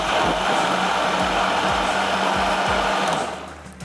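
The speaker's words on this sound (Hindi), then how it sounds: "थोड़ा सा और ब्लेंड करेंगे" A countertop blender grinds a wet spice paste for potato chutney pulao with a loud, steady motor whir and a rhythmic low churning, and it winds down at the end.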